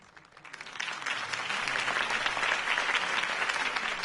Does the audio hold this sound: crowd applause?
yes